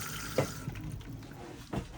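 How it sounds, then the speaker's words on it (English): Motorhome cassette toilet pumping fresh-water flush fluid, a steady watery rush and gurgle with a couple of brief bumps and splashes, close and continuous. "press the little blue button at the back here, that'll pump around our flush fluid"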